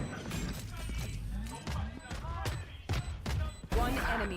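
A missile salvo firing during a Valorant esports match, heard as a volley of repeated sharp blasts and impacts in quick succession under excited commentary.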